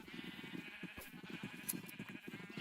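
Blocky sheep in a Minecraft survival world bleat repeatedly in short, overlapping calls, as from a large pen of animals nearby, with steady game ambience and no talk.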